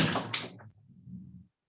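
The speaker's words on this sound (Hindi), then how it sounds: "अन्यथा दरवाजा बंद कर दो।" A door swung shut during a lecture, a loud close thud followed by a softer rattling settle as it closes, then silence.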